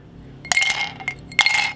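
Metal cask ale pump nozzles clinking against a glass as they are dropped in, two bright clinks close by.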